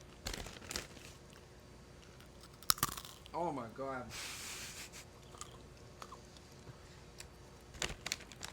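Candy snacks crunched and chewed close to a podcast microphone, crisp irregular crackles scattered through the stretch, with people chatting and a brief exclamation over them.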